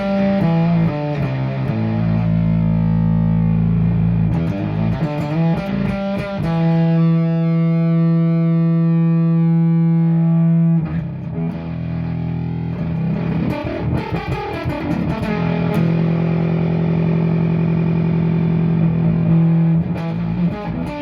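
A PTD Rotobone V2 effects pedal on its classic bone setting with the gain eased down, giving thick, distorted, buzzy sustained notes and phrases, loud and close, with no talk.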